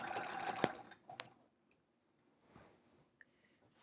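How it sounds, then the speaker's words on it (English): Sewing machine stitching a quilt: a few quiet, short bursts of needle clatter and clicks, separated by near-silent pauses, close by with no talking. "Yep, we're still sewing, so that's good."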